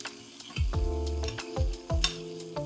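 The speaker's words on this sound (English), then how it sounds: "our butter's in the pan, we're just gonna do a nice little baste here" Butter sizzles in a hot pan around a salmon fillet cooked flesh side down as it is spooned over, with close frying crackle and a few sharp clicks and scrapes from the spoon.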